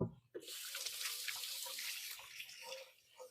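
Tap water runs into a kitchen sink while hands are washed, a close, steady splashing hiss that starts abruptly after a brief knock and wavers as the hands move under the stream.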